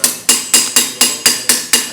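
Eight even, ringing strikes of a hammer on metal against an anvil, close and loud, spaced roughly a quarter second apart, with no talking.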